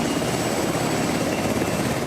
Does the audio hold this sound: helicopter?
yes